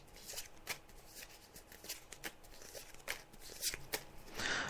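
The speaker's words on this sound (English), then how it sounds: "So I'm just shuffling the cards now, as you can hear" Tarot cards being shuffled by hand during a psychic reading, a series of soft, uneven riffling bursts and flicks, close and fairly quiet, with no talk over them.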